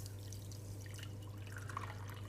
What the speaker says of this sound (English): we take some water that's been boiled and probably cooled a little, and we pour some in to the cup like this